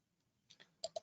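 A few quick computer mouse clicks while working in Pega UI software, faint and close, two soft taps followed by two sharper clicks in the last half second.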